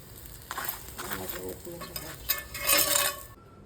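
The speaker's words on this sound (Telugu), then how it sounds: "చపాతీలన్నీ చేశాక ఈ విధంగా కాల్చుకుంటున్నాను." Chapati roasting in ghee on a hot pan, a steady close sizzle with soft scraping and turning sounds that swell louder near the end before cutting off.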